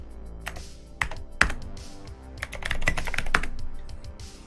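Rapid clicking of keys on a computer keyboard, with irregular bursts of keystrokes and a few sharper taps, close up and with no voices.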